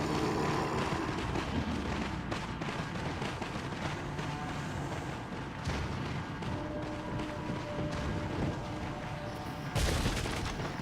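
Repeated heavy booms and crackling blasts from grenades going off in Resident Evil 4, Wii Edition, dense and continuous over a bed of game noise, with a sharp louder burst near the end.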